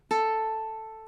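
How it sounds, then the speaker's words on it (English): One open A string on a ukulele is plucked, a clean close note that sustains and fades gently on its own. "Then we're going to play open on the A"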